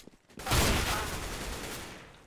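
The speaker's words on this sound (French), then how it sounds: "Mais Neo qui arrive quand même à prendre une tête au fusil à pompe sur Sanden" Shotgun and rifle fire in Counter-Strike, on the Cobblestone map in a pro league match, breaks out in a sudden dense burst of overlapping shots that tails off gradually.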